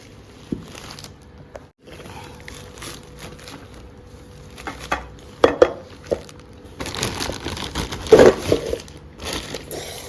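A new kadhai, an Indian wok with a lid, is unpacked from its packing with sporadic crinkling, rustling and crushing of material and a few light knocks, close and intermittent, with quiet gaps between.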